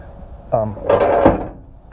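A step on a homemade camper trailer slides in and out with a short woody scrape and thump, a brief close movement lasting about a second.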